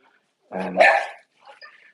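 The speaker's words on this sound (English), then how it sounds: "There's the dog barking in the background." A pet dog named Sammy barks in a short burst of a few yelps and a growly bark, mid-distance in a room during a PC upgrade, followed by fainter trailing yips.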